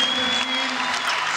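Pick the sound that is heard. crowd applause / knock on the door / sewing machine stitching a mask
crowd applause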